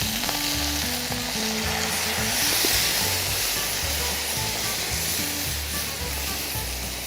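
About half a bottle of red wine hits a hot casserole pot for a swan and cherry casserole, setting off a loud, continuous sizzle and hiss that holds steady for several seconds, with no talking.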